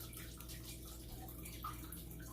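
Running water splashes and gurgles steadily as a small watercolor paint bowl is rinsed out, a continuous close wash with no pauses.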